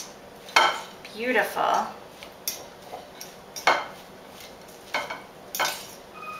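Raw cauliflower Spanish rice being mashed and mixed in a bowl, with close clinks and scrapes of a utensil against the bowl in irregular bursts, and a voice speaking briefly.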